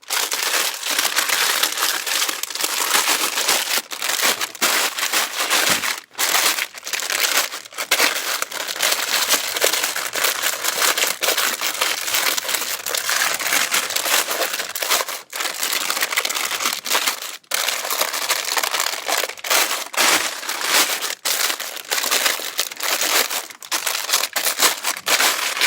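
A waterproof-lined bag is folded and crinkled up close, giving continuous loud crackling and crumpling with sharp rustles and brief pauses throughout, with no talking.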